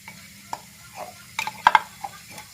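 Meatballs browning in a pan without oil, with tomato added, give a soft sizzle under sharp scrapes and clicks of stirring against the pan, with no talking.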